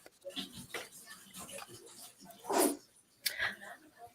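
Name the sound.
Yorkie dog growling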